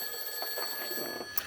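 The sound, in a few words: telephone ringing, scam call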